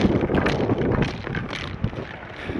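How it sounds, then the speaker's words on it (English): Strong outdoor wind blowing ahead of a hurricane, buffeting the microphone in steady gusty rumbles and rushes with no clear pauses. "before the hurricane kicks up and makes the wind even stronger"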